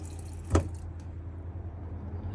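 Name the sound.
water running through motorhome cold tap to purge air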